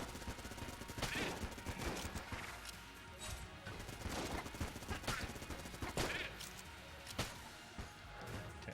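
Gunfire in the video game Enter the Gungeon, a busy run of sharp shots and impacts in uneven bursts over a continuous game soundtrack, moderately loud throughout.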